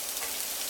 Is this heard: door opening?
no